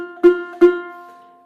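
A ukulele plucks the single note F twice, each pluck ringing clear and close before fading out alone.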